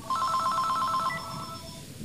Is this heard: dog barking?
no